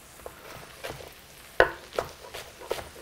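A knife cuts through kale leaves on a board in a few distinct, crisp chops spaced irregularly, close and fairly clear over a soft background rustle.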